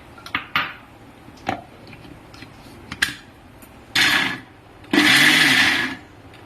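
A mixer grinder chops coconut and raw mango chutney. Light clinks and clatter from handling the jar come first, then two loud whirring bursts from the motor, the second one longer.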